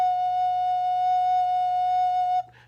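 Single sustained F sharp on a recorder, a steady pure tone held for over two seconds before stopping abruptly, played alone with a faint low hum underneath.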